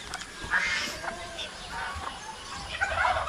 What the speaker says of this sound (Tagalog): yung manok natin, oh. Bingala yung kasama.